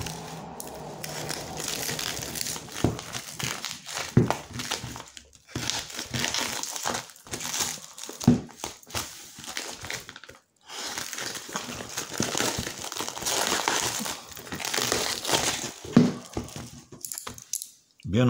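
Packaging around a Blackview BV5500 phone is torn open, giving loud, close plastic crinkling and crumpling in repeated bursts with short quiet gaps, and someone speaks now and then.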